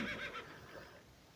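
A faint horse whinny from a herd of about 25 skittish horses in a burned woodland in North Macedonia, heard at a distance as a brief rising call that fades out.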